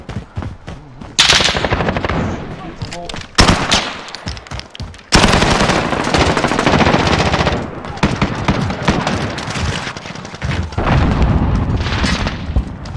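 Loud, sustained automatic gunfire bursts with booming shots from an online multiplayer first-person shooter beta, several long volleys separated by short pauses and overlaid with faint in-game chatter.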